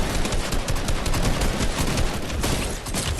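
Tactical shotgun fire in a Fortnite match, loud rapid overlapping gunshots packed into a dense burst of combat noise, close and harsh, with no talking.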